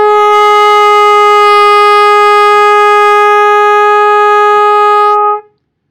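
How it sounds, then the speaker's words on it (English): A single sustained trumpet B flat, fingered with the first valve down, held loud and steady for about five seconds before stopping cleanly, with nothing else heard. "We finger this B flat with the first valve down."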